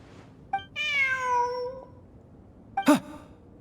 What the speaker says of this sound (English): Look! A cat!